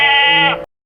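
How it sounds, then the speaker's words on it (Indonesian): A single goat bleats close and loud, one sustained wavering cry lasting over half a second before cutting off into silence. "Jihun kembali kesal karena suara kambing itu"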